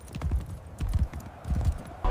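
A war horse's hooves clip-clop at a steady walking pace, close and distinct, with repeated bursts of hoofbeats and no talk.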